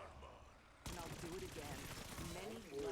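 Gunfire from a weapon in the video game Black Ops 6 bursts in abruptly after a quiet start and carries on as a loud, dense stretch of rapid shots, with a voice talking over it.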